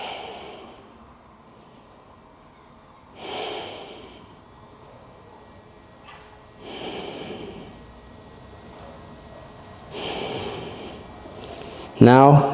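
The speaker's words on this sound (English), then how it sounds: "breathing in through nose," Slow nasal breathing during a stretching class, four long airy breaths in and out through the nose spaced a few seconds apart, close and soft, with a brief sharper sound at the very end.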